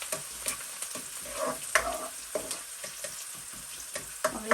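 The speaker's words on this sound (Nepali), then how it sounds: "देख्नुहुन्छ यो चाहिँ लाइट ब्राउन गर्नु गरेर यसरी चलाउने." Chopped garlic fries in a pan and is stirred, giving a steady soft sizzle broken by repeated scraping strokes, close and without talk.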